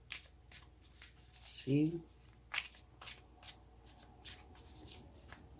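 Tarot cards being shuffled by hand in a short, crisp riffle and a few softer card slides, fairly close, with a quiet voice speaking briefly.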